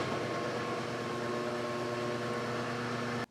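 A lathe spindle runs at a slow 50 RPM, giving a steady mechanical hum with a constant tonal whine, even and unchanging throughout, cut off abruptly at the end.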